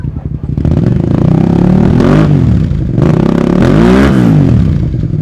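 A classic twin-cylinder road motorcycle starts up and revs at a show: a loud, close, throbbing engine that climbs and falls through two sweeping revs over a steady lumpy idle.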